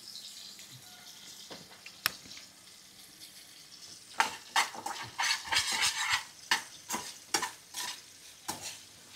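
Masala frying in a little oil in a home kitchen, with a spoon scraping and stirring against the pan in repeated strokes over a light sizzle, close and fairly loud.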